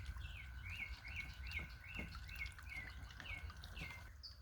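Small birds at a garden water feature give a quick run of repeated chirps, about ten evenly spaced notes, faint and somewhat distant over a low background rumble.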